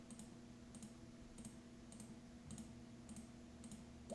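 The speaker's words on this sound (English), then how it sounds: "Stop double clicking." A computer mouse clicks repeatedly with unintended double clicks, producing sharp, quiet, close clicks in small clusters at a fairly even rhythm over a low background hum, with no talking.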